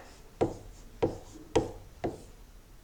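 Chalk or a marker striking and scraping on a board during a math lesson, in four or five evenly spaced taps and short strokes, fairly close and with no talking.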